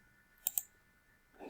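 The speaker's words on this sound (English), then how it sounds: "I click to paste." A computer mouse clicks twice in quick succession, crisp and close, followed by a soft faint rustle in a quiet room while a chart is pasted into a document.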